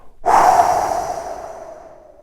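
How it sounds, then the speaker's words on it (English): A single long exhale by a runner, starting abruptly as a strong rush of breath and tapering off slowly over about two seconds, close and alone with no talk. "he recommends every now and then like a full exhale"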